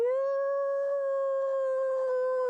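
A voice imitating dogs howling together outside a house, one long sustained rising-then-level "woo" howl, loud and close, held alone without other sound.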